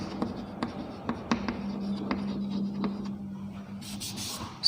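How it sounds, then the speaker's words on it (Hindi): Chalk or marker scratches out a line of writing on a classroom board during a chemistry lesson, a quiet series of short taps and strokes close by over a low steady hum. "तो एक लाइन ऊपर लिख देता हूँ मैं"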